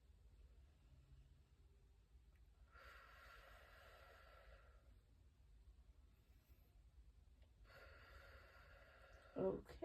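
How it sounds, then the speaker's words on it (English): Two slow, deep inhalations are drawn during a lung exam, each a soft, breathy hiss lasting a couple of seconds, quiet and close against faint background noise. "take a deep breath in for me"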